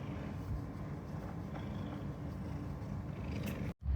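Cats purring close by in a steady low rumble that continues without break for several seconds, soft and even, ending in a brief cut.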